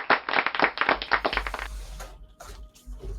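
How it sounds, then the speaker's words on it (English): A short round of applause from a few people: quick, fairly close claps for about a second and a half, then a quieter tail of scattered sounds over low hum. "You can have a round of applause"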